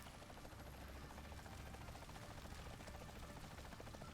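A helicopter in the Ty 2 video game drones steadily and loudly throughout, a constant rotor rumble with no clear splash or talking standing out.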